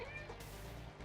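A cat meows a couple of times in a video game, faint and close, over steady game background noise.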